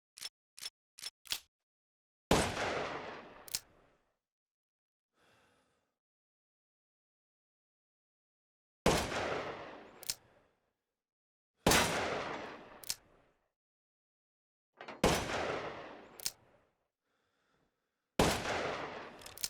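Gunshots in Resident Evil Village played in VR on PSVR2, a few quick sharp cracks followed by spaced single loud reports, each ringing out briefly before near-silence.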